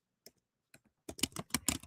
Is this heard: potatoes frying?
no